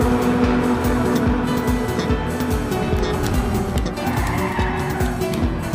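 Tires skid and squeal as a car drifts through a turn in the racing game Ridge Racer Type 4, a loud, sustained screech layered over the engine, with no talk.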